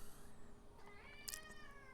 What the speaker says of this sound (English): Sorry, my cat's meowing.